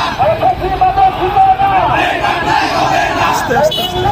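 A large crowd at a student protest march in Kushtia, Bangladesh, chants and shouts together loudly and continuously, rhythmic voices close and overlapping with general babble.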